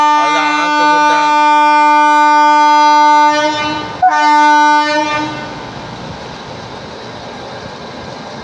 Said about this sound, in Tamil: காய்ஸ் இப்போ பார்த்தீங்கன்னா ஜன்சராப்தி நீ கிளம்ப போகுது.